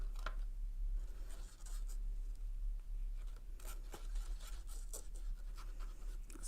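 A pen scratches repeatedly across scrap paper in short, quick strokes to get the ink flowing again, sounding faint and close over a low steady hum.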